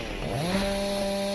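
Chainsaw in the video game Dark Moon cutting into trites, a loud close engine whine rising sharply in pitch and then holding a steady high buzz.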